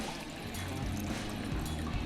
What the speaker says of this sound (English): take 1 cup of water, add it to our pan here